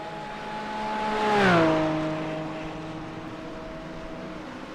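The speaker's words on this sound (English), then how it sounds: "Just love watching these cars make their way into the 1st and 2nd corners at this circuit." GT4 race cars from a sim racing game sweep into the opening corners at Catalunya, engine tones rising as one car approaches, peaking as it passes close by, then dropping in pitch and fading into a steady drone from the pack.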